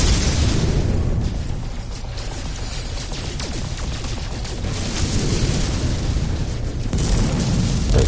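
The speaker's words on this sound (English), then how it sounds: "Wait, why are you shooting at me?" Sustained rumbling gunfire and explosive booms in the space game No Man's Sky as another ship fires on the player in an asteroid field, a dense, continuous barrage with some sharper bursts, loud and close with no talking.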